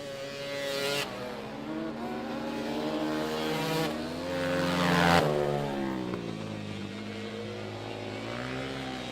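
Open-class racing quad bikes, one running an LED Performance Engine Honda motor, roar around a dirt track in a main event, engine notes rising and falling steadily as they pass, loud and continuous with no talk.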